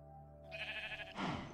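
Two sheep bleats, one after another, from a sheep pen in the video game Tolkien Craft II; close and clear, no talk.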